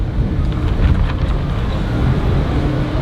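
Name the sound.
tarp flapping in the wind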